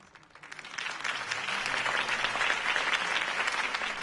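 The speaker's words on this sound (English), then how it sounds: "If only Mr. Wayne, my campaign's largest backer, could have heard that applause" A crowd applauds after a campaign speech in a Batman video game, steady clapping that swells within the first second and then holds at a moderate, even level.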